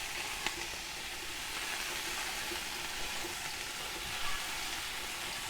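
Tomato and mushroom pieces fry in a pan at a campsite cookout, giving a steady, close sizzle with a few faint clinks and stirring sounds and no talking.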